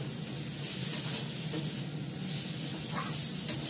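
A green chili fries in a pan of oil, sizzling steadily and softly at close range, with a few faint clinks and stirring sounds.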